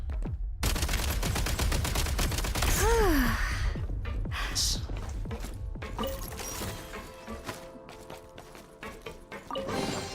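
Rapid automatic fire from a game gun, a long train of evenly spaced shots at first, then sparser scattered shots and clatter, with a gasping voice and some talk mixed in.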